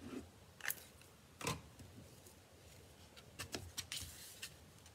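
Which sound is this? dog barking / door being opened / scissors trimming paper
scissors trimming paper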